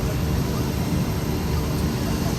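Steady broadband airplane engine drone inside the passenger cabin during a flight, a constant unbroken roar with no talk.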